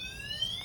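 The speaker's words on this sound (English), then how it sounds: "if they keep messing with it, you can see it sets off an alarm" Anti-theft alarm on an Urban Drift Gobi S electric scooter, a loud shrill electronic tone rising slightly in pitch, heard close and alone in a short burst.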